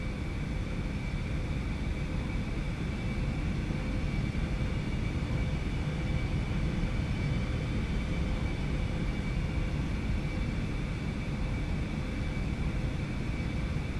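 Steady, loud jet engine roar of an IXEG 737-300 airliner spooling up breakaway thrust in the X-Plane 11 flight simulator, a continuous broadband rumble with a faint tonal whine, holding level throughout without speech.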